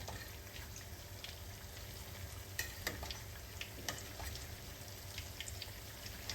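Stuffed paneer pakoras frying in oil over a medium gas flame: a continuous soft sizzle with scattered crackles and pops, quiet and close, with no talking.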